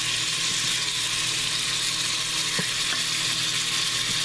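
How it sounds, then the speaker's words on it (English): Beef tips searing in a Farberware pressure cooker give a continuous loud, close hiss and sizzle with a few faint clicks of stirring and no talking. "Just searing it a little bit, searing the flavors"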